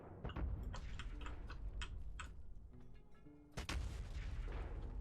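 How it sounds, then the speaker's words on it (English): Artillery shells firing in the video game Factorio, a series of sharp, spaced reports with a ticking, clock-like rhythm, then a louder burst near the end, with no talk. "That's a very strange shooting sound."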